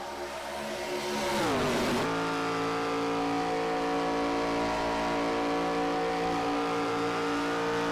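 Stock race cars roar around a track at Atlanta, one engine sweeping past with a falling pitch and the rest settling into a steady, loud, layered drone of high revs.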